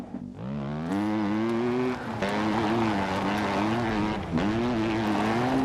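Vehicle engine in the survival game Scum, a loud droning motor that revs up from idle and holds a buzzing, slightly wavering pitch with brief dips, continuous and close with no talk.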